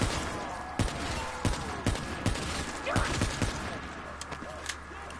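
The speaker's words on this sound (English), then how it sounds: "machine gun that I got running" Automatic weapon fire in Black Ops 3 Zombies, a burst of sharp shots at irregular intervals, loud and close over a constant game background din, with the shots thinning out toward the end.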